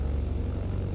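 Steady low drone of an airplane engine in Microsoft Flight Simulator, a continuous propeller-like rumble holding even and loud for the whole moment with no talk over it.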